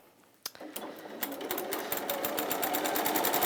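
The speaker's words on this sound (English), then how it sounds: "I'm just going to sew to this side" Sewing machine stitching a campervan-print cushion in a craft studio, a single click then a fast, steady run of needle strokes that builds and holds, close and fairly loud with no voices.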